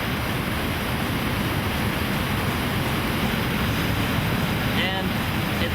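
River water rushing through rocky slots in Linville Gorge at high flow during kayaking, a constant loud broadband roar with wind buffeting the microphone and a faint voice briefly near the end.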